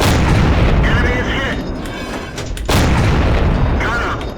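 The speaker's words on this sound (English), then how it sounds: "I've got a perfect lineup on this Sherman's rear, so I start putting rounds into him." A T49 tank destroyer in a tank battle video game fires heavy rounds into a Sherman, two loud booming shots spaced a couple of seconds apart with rumbling echoes and mechanical clatter between them.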